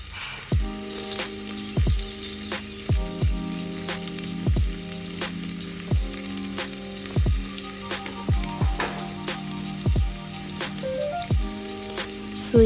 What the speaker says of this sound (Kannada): ಎಣ್ಣೆಗೆ ಈಗ ನೀರುಳ್ಳಿ ಎಣ್ಣೆ ಹಾಕಿ ಸ್ವಲ್ಪ ಫ್ರೈ ಮಾಡ್ತೇನೆ